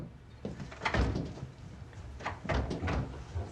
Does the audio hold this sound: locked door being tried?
yes